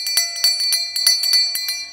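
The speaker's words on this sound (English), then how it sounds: "You can use a different tone of brass bell" A small brass bell is shaken rapidly, each strike ringing bright and sustained in a quick uneven rhythm of about ten hits, loud and close with no speech.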